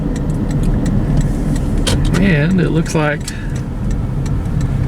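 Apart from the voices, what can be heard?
car driving on Highway 20 in Interlaken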